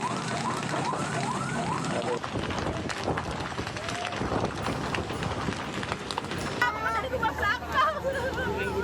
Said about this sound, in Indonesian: Kebakaran hebat terjadi di permukiman padat penduduk di Kemayoran Gempol